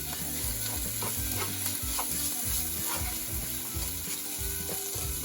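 Canned tuna sisig frying steadily in a pan over low heat, a constant close sizzle with soft stirring scrapes and clinks running through, no talking.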